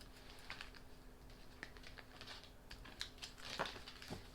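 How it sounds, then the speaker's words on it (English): Tarot cards being drawn from a deck, soft papery shuffles and crinkly card snaps scattered across the moment, faint and close, with a brighter flurry near the end and no talking. "I'm going to go ahead and pick 3 cards now."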